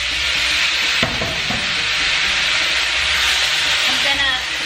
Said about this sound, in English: Okay, so now I'm going to add the tomatoes.